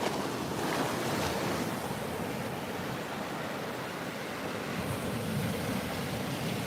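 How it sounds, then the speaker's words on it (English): Ocean waves wash continuously onto a beach, a loud steady surf roar with wind buffeting the microphone and no voices. "these waves is waving"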